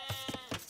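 Sheep bleat in the Age of Empires II video game, with a few short, close, clear bleats in quick succession over a low background.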